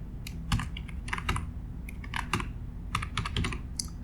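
Fingers typing a workspace name on a computer keyboard, giving a close run of irregular clicking keystrokes with short pauses and no speech.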